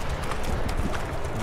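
Hooves clip-clop in a steady walking rhythm as a horse is ridden in the mountains of Georgia around Mestia and Ushguli, close and continuous.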